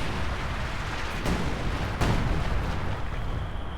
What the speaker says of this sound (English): More officer artillery